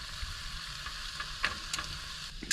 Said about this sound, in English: them onions and the pepper. I'll get them in there sweating.